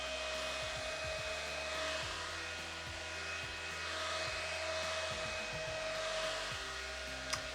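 A small handheld fan blowing to dry a face, a steady close whirring hum with a constant motor whine that holds evenly throughout, with a tiny click near the end.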